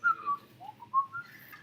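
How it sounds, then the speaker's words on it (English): Melodic, bird-like whistled phrases rise and fall in short bright notes over a low background hum, close and clear, with no talk. "Sound like a songbird. That's beautiful."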